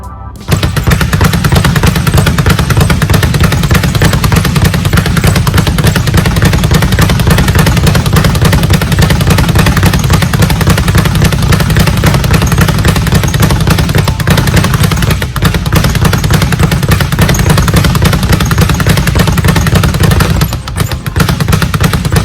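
A speed bag is punched by an amateur boxing champion in a continuous, rapid, loud drumming rhythm that runs for over twenty seconds with only a few split-second breaks.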